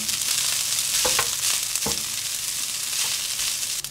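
Rice fries in margarine in a pan with a steady, bright sizzle, broken by a few soft scraping stirs, close and continuous with no talking.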